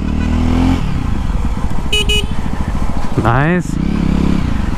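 A BS6 Jawa motorcycle engine thrums steadily while being ridden, its revs climbing in a rising whine before settling back, with wind noise and a rider briefly speaking over it.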